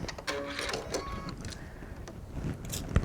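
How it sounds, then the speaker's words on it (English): A serger sewing machine running along the seam of a light-stretch knit sleeve, a continuous close mechanical whir with rapid stitching clatter and a few small clicks, heard alone. "I'm going to run this through a serger"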